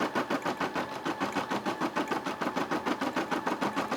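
A Brother SE600 embroidery machine stitches out a turkey design, its needle pounding in a rapid, even rhythm of close mechanical beats that hold steady throughout without a break.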